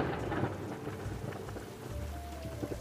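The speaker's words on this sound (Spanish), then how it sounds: "Llueve." Steady rain falls in southern Mexico as a dense, continuous hiss with low rumbling underneath, heard alone at moderate loudness.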